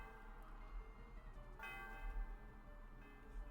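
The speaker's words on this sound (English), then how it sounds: "I rang the bell." A faint church-style bell tolls with sustained, shimmering tones that swell and decay, from the PokeMMO video game, sitting low under a soft hum without talk.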